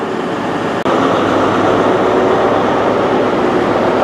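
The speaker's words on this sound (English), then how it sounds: "Arriving in there, I believe, is a service from Frome to London Paddington." A Great Western Railway train arrives at Reading station, a loud steady rumble and roar of the train rolling in close by, with a brief dip near the start.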